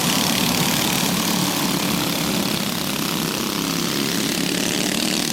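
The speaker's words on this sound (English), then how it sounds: "You can hear that motor trucking around." Go-kart motor roaring steadily around a backyard racetrack during a 50-lap feature race, a dense continuous drone close by with no pauses.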